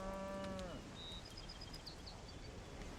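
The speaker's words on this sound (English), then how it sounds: "They come, because I petted my cows, they've come up to see me." A single low, drawn-out cow moo from cattle in a farming video game, fading within the first second and followed by faint high bird-like chirps over a quiet ambient background.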